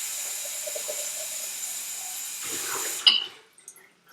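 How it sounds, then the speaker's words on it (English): Water rinses sprouting seeds in a jar: a steady, close rush of running water for about three seconds, then it cuts off with a short clink and a few faint drips. "I need to kind of rinse a couple times and dump them because they're getting a bit stuck in the jar"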